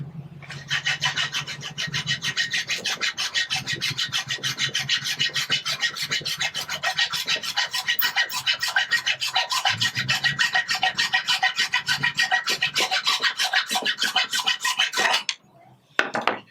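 Steady back-and-forth rasping, like a small saw or file cutting a small knob off a sculpture, close and continuous for about fifteen seconds before it stops, followed by a couple of light knocks.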